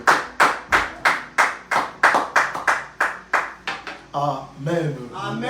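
A church congregation claps in steady unison to acclaim Jesus Christ, strong rhythmic beats about twice a second, then the clapping breaks into looser applause as voices join in.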